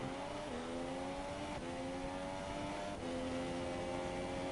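Race cars in a racing game drone steadily at a faint level, their engine pitches stepping up and shifting as they hold speed through the race.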